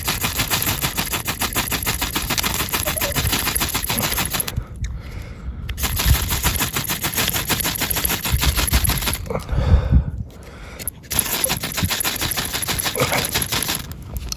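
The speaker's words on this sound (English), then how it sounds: "I'm going to continue to just blast the sparks onto it" A fire steel rasps repeatedly to shower sparks onto tinder outdoors in winter, rapid harsh scraping strokes in long continuous runs, close and loud, broken by two brief pauses.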